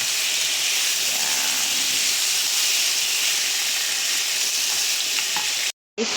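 Chicken breast sautéing with garlic in a pan gives a steady, dense sizzle and hiss that fills the whole stretch, close and loud, with a brief cut near the end.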